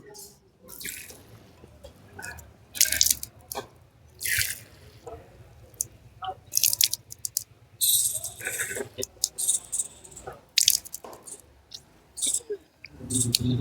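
Water is drawn into the nose during ablution (wudu), heard as close, repeated sniffing splashes and sharp wet bursts, with a steady tap running and water dripping into a basin between them.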